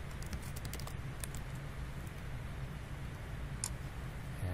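Computer keyboard keystrokes entering Control-A and Control-C shortcuts, a handful of quick clicky taps in a loose cluster, close and fairly quiet over a low background hum.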